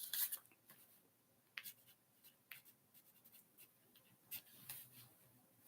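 Pen or pencil writing on paper in a notebook, a faint close scratching in short irregular strokes with quiet pauses between them, no voices.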